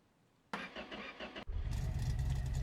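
A classic British car, painted Panther Pink or British Racing Green, turns over with a whirring starter crank, briefly cuts out, then catches and settles into a steady, loud, rumbling idle nearby.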